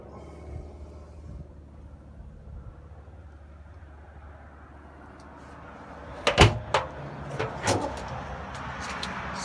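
Boot of a 1958 Austin A35 found in a barn being opened: quiet rustling first, then a burst of sharp metallic clunks and rattles from the lid and latch, close up, with no voices.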